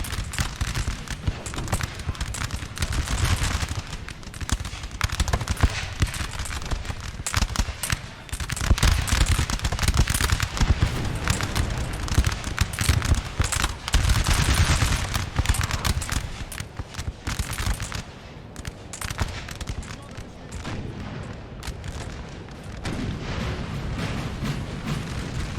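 Massed musket volleys from troops in the battle game Napoleonic Total War 3: dense, continuous crackling gunfire with overlapping sharp reports and rumbling booms, loud and unbroken throughout, with a voice faintly underneath.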